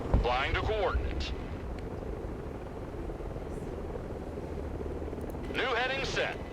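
A helicopter in the video game Broken Arrow gives off a continuous low rotor rumble throughout, while brief bits of speech come at the start and near the end.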